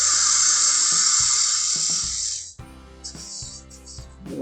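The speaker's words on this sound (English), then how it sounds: "I'm going to do one more cut with my parting tool" A parting tool cuts into a small wooden Christmas ornament spinning on a lathe, giving a loud, steady high scraping whine that breaks off and resumes in shorter bursts, with the motor humming underneath.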